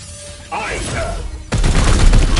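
Video game unit opening fire on demons: a loud, dense burst of rapid gunfire erupts after a stretch of quieter effects and a voiced line, continuing to the end.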